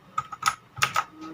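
Clicky Otemu Blue switches on an HP GK100 keyboard snap through roughly five separate keypresses in uneven rhythm, close and crisp, with no voices.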